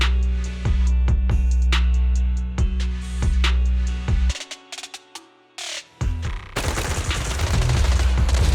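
Gunfire in the video game Zenless Zone Zero: loud rhythmic bursts of shots over a heavy droning bed, a brief lull of scattered hits, then a dense roaring volley of rapid fire.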